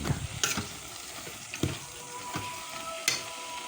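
Eggplant cooking with shrimp paste in a pan, stirred now and then: a steady soft sizzle broken by several sharp scrapes of a utensil against the pan.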